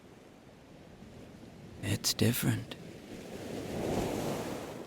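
Ocean waves wash against a beach with a steady rushing hiss that swells toward the end, while a voice speaks briefly in the middle.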